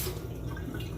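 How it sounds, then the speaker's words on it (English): Tap water runs steadily over fresh strawberries being washed for a homemade smoothie, a close, continuous splashing hiss lasting about a second. "Make sure you wash your strawberries."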